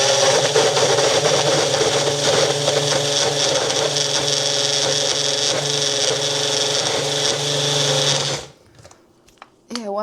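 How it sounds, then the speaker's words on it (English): A Ninja blender runs loud and steady while mixing a smoothie for a high-protein smoothie bowl, its whirring motor droning continuously for about eight seconds before cutting off abruptly into near silence. "invest in a good blender"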